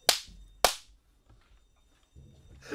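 Two sharp gunshots from GTA 5, fired into a door, the second about half a second after the first, loud and close, followed by faint low shuffling and the start of another noise at the end.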